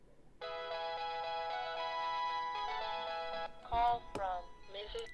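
A phone ringtone for an incoming call repeats a steady electronic melody for about three seconds, then brief speech follows, all fairly quiet indoors.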